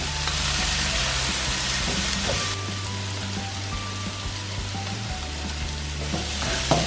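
Chilies, garlic and onion fry with meat in a hot wok for drunken noodles, a loud, continuous sizzle with stirring scrapes and no talking.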